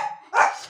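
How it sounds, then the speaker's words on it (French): A dog barks once, loud and close, in a sharp burst preceded by a fainter yip. "Parce que les chiens commençaient à aboyer"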